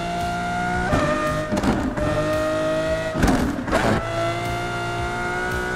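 Engine of a 1979 Ford F-Series with manual transmission in a driving video game, a loud sustained drone rising and falling in pitch, with brief bursts of tire or impact noise around gear changes.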